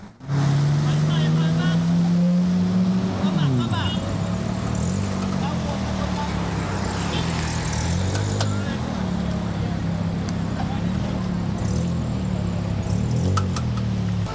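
Cars pushing through heavy, murky floodwater, a loud continuous wash of churning water and engine drone with a shifting low hum, close and steady throughout.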